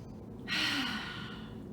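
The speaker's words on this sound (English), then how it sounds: "we're going to take a nice yoga breath." A single deep yoga breath, a long, close exhale with an airy sighing rush that fades gradually over about a second.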